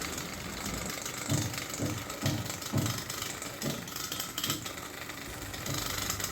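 Small homemade electric hair trimmer with dull blades, run against a beard and pulling the hair, giving a steady close buzzing motor whir with rough irregular pulses and catches as the blades drag through the whiskers.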